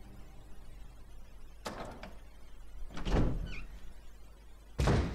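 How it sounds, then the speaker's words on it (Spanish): A door opening in the video game Resident Evil HD Remaster on PS3, a few heavy thunks and a sliding, creaking clatter spaced across several seconds over faint background hum. "Muy bien, abrimos esta puerta."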